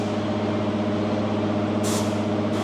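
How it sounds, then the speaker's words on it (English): An air-powered laundry folding machine runs with a steady mechanical hum, and two sharp hissing air blasts burst out near the end, close and loud. "You can hear the air folding it."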